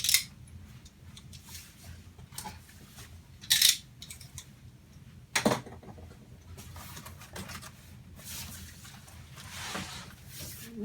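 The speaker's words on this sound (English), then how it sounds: "we're just going to slice this open" A blade slices through tape on a cardboard box. There are sharp, scattered scraping and ripping bursts with a few louder cracks, over low background hum and no talking.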